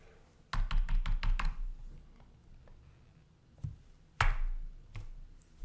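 Computer keyboard keys clatter in a quick burst of about six taps, then scattered single keystrokes follow with pauses between, close and fairly crisp, no voice present.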